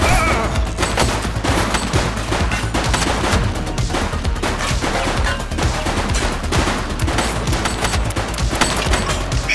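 Heavy gunfire in The Precinct video game: a dense, sustained barrage of rapid shots and automatic bursts, loud and close, continuing without a break.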